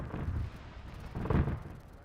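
Automated base cannon in the Arma 3 military game booms out in two heavy, low rumbling blasts about a second apart, with a wind-like roar lingering between them.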